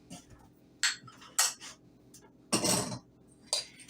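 Butter, sugar and salt being mixed in a bowl, with a handful of separate scraping and clinking strokes of a utensil against the bowl, close and spaced out, one longer rough scrape in the middle.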